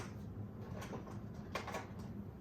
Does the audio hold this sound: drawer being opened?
yes